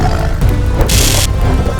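A lion and a tiger in a cave, with a loud, rough roar rumbling over a steady low growl and a brief harsh burst in the middle, all close and heavy.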